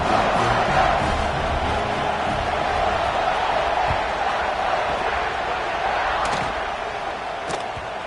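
A football stadium crowd at kickoff gives a dense, sustained roar of cheering that stays loud and steady throughout, with scattered shouts but no clear single voice.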